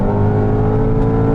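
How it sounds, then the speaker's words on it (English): A 2020 Mercedes-AMG GT 4-door coupe's 4-liter twin-turbo V8 revs loud and close through its sports exhaust, a sustained deep growling drone with a steady, unbroken roar throughout. "The sports exhausts are turned on, and oh boy, what a sound"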